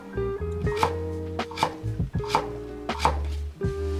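A knife chops carrot on a cutting board for escabeche, roughly a dozen crisp strikes at an uneven steady rhythm, close and clear with no talking.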